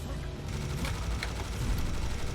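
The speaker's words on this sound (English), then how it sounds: "Whoever's on the opposite side, whoever he's aggroed on, keep shooting him." Dense, continuous gunfire in Serious Sam co-op play, a rapid barrage of shots aimed at a boss that fills the whole stretch loudly, with occasional sharper cracks standing out.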